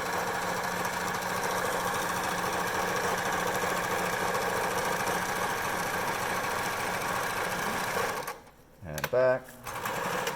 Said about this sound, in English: So we're gonna have a straight stitch here